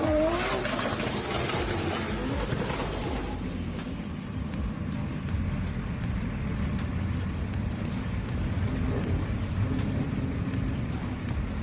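Drift car number 15 runs on a wet track at a D1GP Malaysia drifting event, its engine revving and whining loudly at first, then fading into a continuous hiss of spray and distant engine drone.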